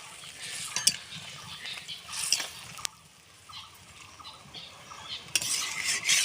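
Vegetarian mock goat-fat pieces are dropped into boiling gravy and stirred, with soft bubbling, scraping spoon strokes and scattered metallic clinks against the pot, close and fairly quiet.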